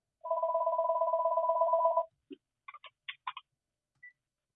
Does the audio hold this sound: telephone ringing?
yes